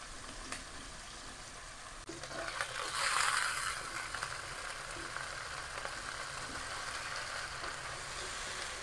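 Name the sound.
sautéing spices in oil for kimchi ramen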